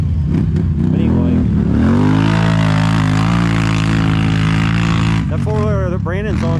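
A 1000cc four-wheeler ATV engine drones loudly and steadily while being ridden, pitch climbing then holding, before easing off near the end as brief whoops and voices break in.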